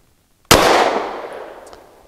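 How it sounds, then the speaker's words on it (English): A single sharp handgun shot firing Fiocchi Training Dynamics 124-grain ammunition at a 7-yard range, a loud crack after brief quiet that trails into a long ringing decay, with no talking. "5 shots from 7 yards"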